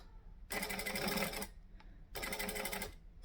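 A sewing machine runs in two loud, steady bursts of stitching through heavy bag fabric backed with foam interfacing, separated by a brief pause with a faint click, close and alone.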